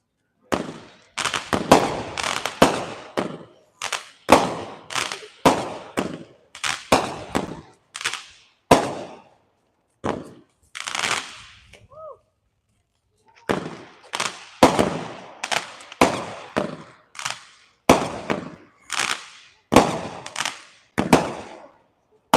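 Honcho 26-shot firework cake at an outdoor demo night fires a long string of sharp, loud pops and bursts in a quick steady rhythm, with a brief pause midway before the volley resumes.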